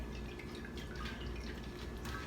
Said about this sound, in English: I just poured the whole thing in there